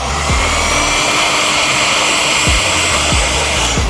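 A hair dryer blows loudly and continuously on a scratched motorcycle lamp, with a steady roaring whoosh and a few faint low clicks underneath.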